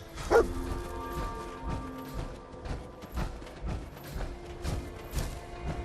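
Dogmeat the dog in Fallout 4 gives a sharp bark at the start, followed by repeated rhythmic thumps and game noises over a low background hum.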